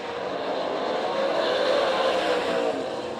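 A dense roar of race cars in an All Stars versus NCRA event on an oval track in Tulsa, Oklahoma, the engine drone swelling as cars pass close by and fading slightly at the end.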